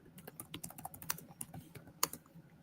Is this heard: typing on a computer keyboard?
yes